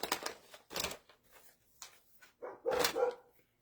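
Neighbour's dogs barking outdoors, several sharp barks in uneven bursts with short gaps between them, moderately near, and no talking.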